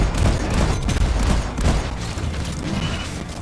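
Dense, continuous gunfire from a team firing weapons in the video game Deep Rock Galactic, rapid overlapping shots and bursts filling the whole stretch at steady loudness.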